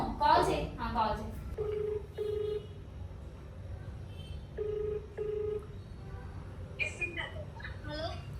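A phone call rings out as a low repeating ringback tone, two paired pulses heard twice at moderate level, with people talking at the start and end of the clip.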